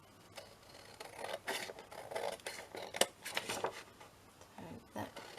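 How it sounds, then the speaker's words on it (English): Scissors snip off small bits of craft material in a series of short, crisp cuts, close and fairly quiet, with a few louder clicks of the blades among the softer snips. "Cut the little bits off anyway."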